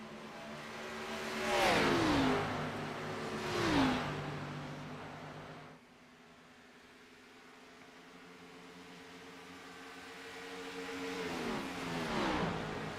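Race cars run on the oval at Atlanta at night, engines swelling into two loud high-pitched passes early, then a lower steady drone of the field circling, with another car rising and roaring past near the end.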